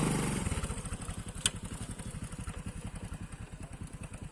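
A motorcycle engine runs steadily at idle while someone learns to ride, a close, even, rapid throbbing pulse with one brief sharp knock partway through and no talking.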